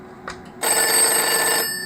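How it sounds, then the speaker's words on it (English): A telephone rings with a bright, continuous bell-like electronic tone lasting about a second after a brief faint chirp, loud and close, then fading. "If I ring the other phone."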